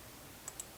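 Three sharp mouse clicks on a computer during game development, spaced a little apart near the end, crisp and close over faint room hiss.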